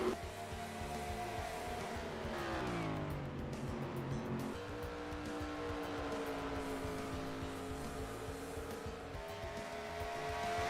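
Race cars circle a track, including a number 39 Pontiac GTO working through traffic, their engines droning and shifting pitch as they pass and rev on, with no talking over the steady roar.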